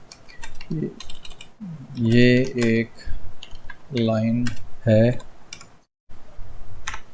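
Light keystrokes on a computer keyboard click and tick in the gaps while someone talks over them close by.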